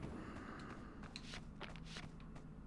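Footsteps in The Hobbit video game sound as a quiet run of soft, shuffling steps, faint and fairly evenly spaced, with no talking over them.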